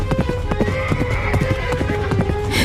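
Horse hooves clip-clop in a quick, steady rhythm as a rider arrives, loud and close over a continuous background bed, with faint vocal sounds in places.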